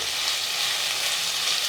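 Shrimp fried rice frying in a pan, giving a steady, loud, close sizzle with a dense hiss that continues evenly and without a break.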